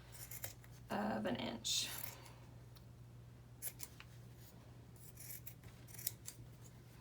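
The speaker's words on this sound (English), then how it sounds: "you also will want to trim the seam allowance just a little bit so it's down to about 1/8" Scissors snip through fabric as the seam allowance of a child's face mask is trimmed, a run of crisp close cuts followed by softer scattered snips, with brief quiet speech.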